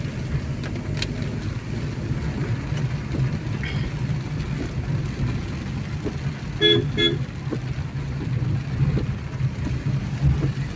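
A state transport bus rolls past on a rural village road in a steady, loud rumble of engine and road noise, with a brief honk near the middle.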